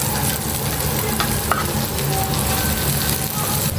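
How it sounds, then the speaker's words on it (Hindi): Masala egg fry cooking on a tawa as turmeric is mixed in, a loud, constant close sizzle with scraping stir strokes throughout. "सो अब हम इसको थोड़ा सा मिक्स कर लेते हैं जल्दी से।"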